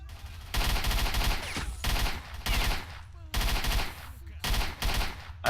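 Submachine gun fire in S.T.A.L.K.E.R.: Shadow of Chernobyl, four loud automatic bursts of about half a second to a second each, separated by short gaps, close and sharp.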